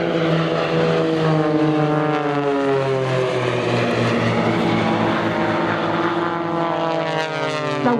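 Blades aerobatic display aircraft at Shoreham Airshow, propeller engines droning steadily and loudly, with several planes' tones shifting and overlapping as they sweep past.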